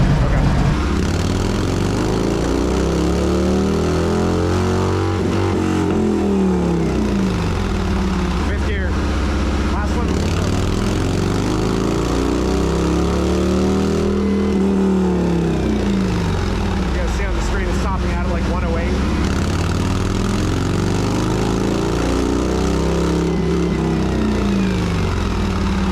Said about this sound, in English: So I'm going to do this pull in 4th gear, 5th gear, and then 6th.